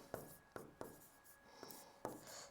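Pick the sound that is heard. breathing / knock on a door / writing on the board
writing on the board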